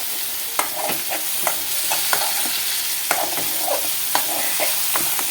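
Eggplant and onion pieces with a little turmeric fry in a pan for vankaya ulli karam, giving a steady, close sizzle broken by frequent light clicks and scrapes of stirring.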